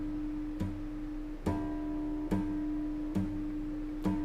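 Guitar harmonics lightly tapped at the 5th fret of the 6th string, ringing as a clear high-pitched tone struck about five times at a steady pace, quiet and close with no talk.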